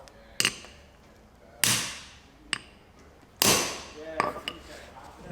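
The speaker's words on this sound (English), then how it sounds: "Just hold it now and then smash it with the hammer." Several sharp, loud hammer blows strike a hand crimping tool clamped onto a thick electrical cable lug, spaced irregularly, each ringing with a metallic clang and short decay.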